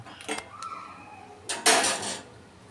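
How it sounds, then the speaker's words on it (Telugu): A pan is set down on a kitchen stove with a couple of metallic clanks and scrapes, a short clatter first, then a louder ringing knock with a sliding scrape afterward. "ఇప్పుడు ఒక ప్యాన్ పెట్టుకోవాలి"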